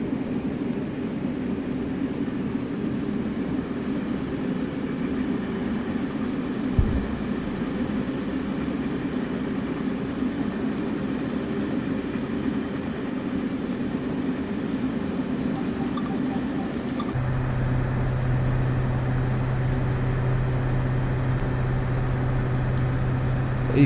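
Steady low diesel-style drone of a locomotive engine in a train simulator game, droning continuously; partway through the tone shifts into a stronger, steadier hum as the view moves into the cab. No one talks over it.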